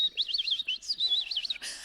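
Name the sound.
bird chirping, imitated by storyteller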